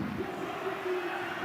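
A crowd of Hearts football supporters cheers and chants in a stadium in Pilsen, a steady distant roar of many voices blended into one sustained wash of sound.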